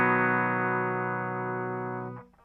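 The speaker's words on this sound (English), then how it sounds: "This is just a clean tone, and I'm using the bridge pickup here just for these sections." An electric guitar on the bridge pickup with a clean tone rings out a sustained chord, holding steady for about two seconds before being damped, followed by faint fret noise.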